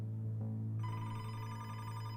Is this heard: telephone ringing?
yes